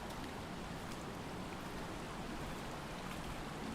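A creek flowing in dark woods: steady, broadband rushing and trickling water that holds even throughout, moderately near with no distinct events and no voices.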